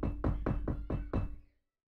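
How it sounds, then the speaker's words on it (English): Six firm knocks on a locker room door, evenly spaced and close, each a dull thud that rings briefly, followed by silence. "but he still knocks on the door"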